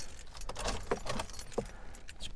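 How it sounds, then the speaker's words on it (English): Car keys for a Nissan Micra K12 jangle and clink close by, several quick metallic rattles in an uneven rhythm as they are fitted into the ignition, with no talking. "if I was to just get the keys and pop them in"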